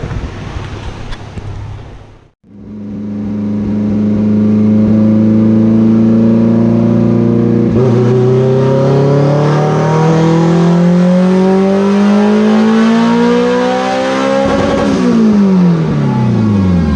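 A turbocharged Honda Civic EG with a built GSR engine screams through a dyno pull, the revs climbing loudly and steadily for over ten seconds before dropping off, with no talking.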